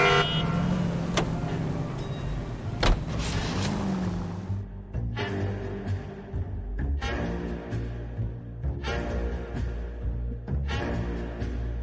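Car engine and road noise from driving in the 1940s Los Angeles crime game L.A. Noire, a steady vehicle drone with harmonic hum, a few brief horn toots early on, and continuous background game music.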